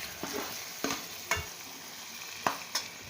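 Cumin, red chili powder and garam masala fry in a pan of beef keema daal, with soft sizzling broken by about six sharp scrapes of a stirring spoon, close and quiet.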